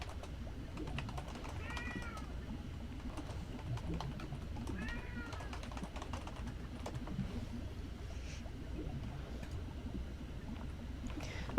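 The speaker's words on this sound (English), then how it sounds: "I have to let a certain cat out of the room before she has a heart attack" A house cat meows twice inside a room, clear rising-falling cries standing out over a low background hum and faint keyboard clicking.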